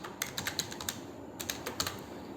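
Quick bursts of keystrokes on a computer keyboard entering a short name, a couple of clustered runs of clicks with a brief pause between, close and clear with no voices.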